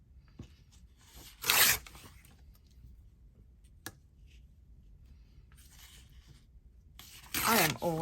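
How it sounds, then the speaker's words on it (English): Paper is torn against a tear ruler during a craft session, with two loud ripping bursts near the start and end and a sharp tick between them, over a quiet room background. "Let's tear that with the tear ruler"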